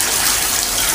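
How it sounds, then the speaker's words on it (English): Water gushing from a tap into a bathtub, a steady close hiss of running water filling the tub, loud and unbroken. "Put the water on and try to get a close-up."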